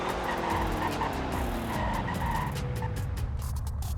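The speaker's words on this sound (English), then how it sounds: "So anyways, let's check the braking." A car in the Roblox game Greenville brakes hard, its tires squealing loudly and steadily for several seconds as the engine tone falls away, with no one talking.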